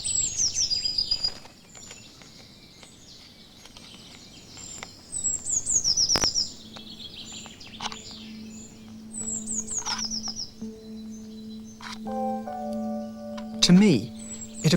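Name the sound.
blue tit calling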